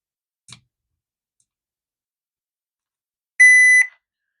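Multimeter buzzer in continuity mode while checking an Enviro DC inverter air conditioner's outdoor PCB: a faint click, then one loud steady electronic beep lasting about half a second, alone in silence.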